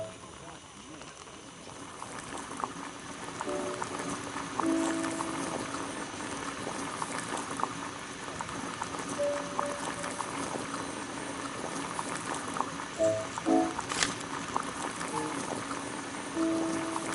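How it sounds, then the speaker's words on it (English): Water boils in a kettle on a gas burner in a video game, a steady bubbling hiss running throughout with faint tonal blips and a brief louder clatter near the end. "Boil water in kettle."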